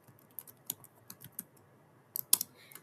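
Someone types on a computer keyboard in a quiet room, with irregular light key clicks, a pause, then a quick final burst of taps.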